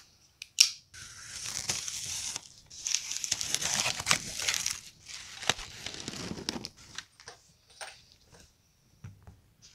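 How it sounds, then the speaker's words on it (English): Crinkling, tearing and crushing of a big cardboard box being opened up close, in bursts of scraping and ripping with short pauses between. "we're going to open up this big box first"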